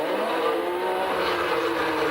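1981 Formula 1 cars race along the Long Beach street circuit, their engines a sustained, dense, high-revving whine that stays loud and even throughout.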